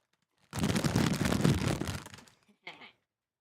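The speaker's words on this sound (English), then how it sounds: "And they gotta be able to hear the bag crunching too." A snack bag crinkles loudly and closely in one long, dense rustle, followed by a short, quieter crinkle after a brief gap.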